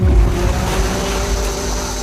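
Ocean waves and wind roll steadily around a boat out at sea, a loud continuous wash with buffeting wind across the microphone and no speech.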